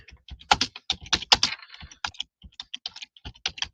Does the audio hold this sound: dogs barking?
no